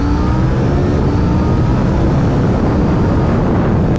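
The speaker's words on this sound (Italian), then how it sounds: "Sentiamo il sound all'interno del tunnel." A KTM 790 Duke motorcycle engine roaring inside a tunnel, loud and close, a continuous reverberant drone filling the space with no talk over it.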